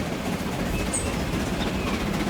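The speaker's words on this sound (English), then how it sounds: "Just watching that oil train go about its business, a fuel train." An oil fuel train rolls steadily along in Transport Fever 2, a continuous mid-level rumble of rail cars with faint clickety-clack, heard alone without talk.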